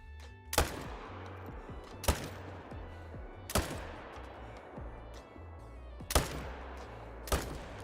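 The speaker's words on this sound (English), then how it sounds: "Okay, few shots later" Rifle shots in the hunting video game Call of the Wild: five sharp, loud single cracks, irregularly spaced over several seconds, with quiet ambience between them.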